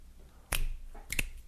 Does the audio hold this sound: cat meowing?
no